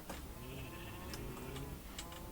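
Sheep bleat in a survival video game, with soft, wavering cries standing out over a steady ambient background and no talk.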